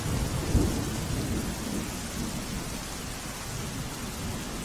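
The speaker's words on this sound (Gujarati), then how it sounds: "છેલ્લા એક અઠવાડિયાથી સાબરકાંઠામાં મેઘરાજા મન મૂકીને વરસી રહ્યા છે" Heavy monsoon rain pours steadily in Sabarkantha, a dense, close roar of downpour with low thunder rumbling underneath and no voices.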